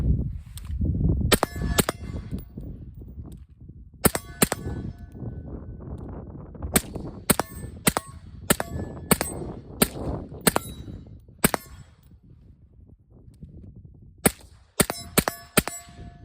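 Suppressed gunfire: about fourteen sharp, clipped reports in uneven bursts and singles, loud against a low rumbling background, with no talking.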